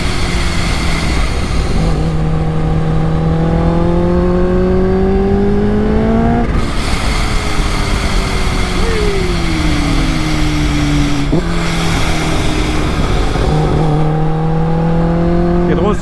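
A 280 hp Kawasaki H2 motorcycle engine revving loudly and steadily, pitch climbing through the gears with brief drops at each shift, heard up close over constant wind rush.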